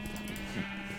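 A short Minecraft sheep bleat, a single wobbling, nasal call held steady for about a second, moderately loud with no speech.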